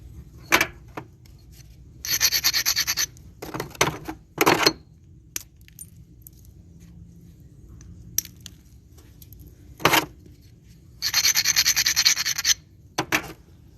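Stone flintknapping by a fireside, with sharp bursts of chipping and scraping as flakes fracture off rock, several separate clicks and longer rasping passes, close and moderately loud with quiet gaps between.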